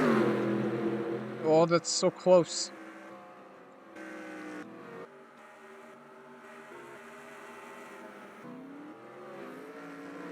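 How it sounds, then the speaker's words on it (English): Race cars at a stock car race scream past one after another, engines rising and falling in rapid bursts early on, then a lower droning field of engines continues under an excited commentator's voice. "That's a bunch of cars passing by."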